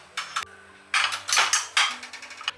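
Ceramic plates handled on a kitchen countertop, giving several short clinks and clatters in bursts, close and fairly clear with quiet pauses between.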